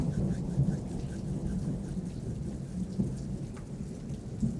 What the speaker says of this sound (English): Wait on that thunder.